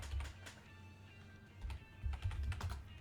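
Rapid computer keyboard typing in a few quick bursts, close and clear, with a brief lull in the middle before a final flurry of keystrokes.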